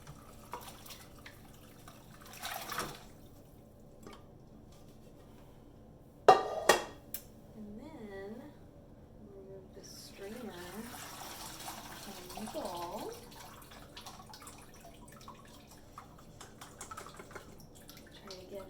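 Hot homemade bone broth is poured from an Instant Pot into a strainer, giving a soft, fairly quiet running splash with a few sharp clanks of pot and strainer nearby.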